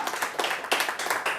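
A church congregation claps and cheers in praise of Jesus, a dense, loud swell of many hands and voices that surges in waves.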